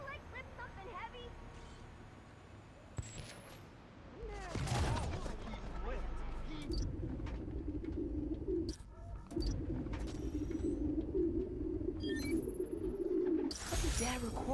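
Pigeons coo on an old park recording in Spider-Man: Miles Morales, soft repeated low calls running under game ambience and characters talking, with a few sharper noises scattered through.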